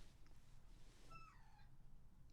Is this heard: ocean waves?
no